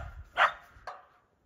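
A dog barks twice in quick succession, a sharp nearby bark followed by a shorter one, over a low rumble, on a village property as the dogs come running toward their owner.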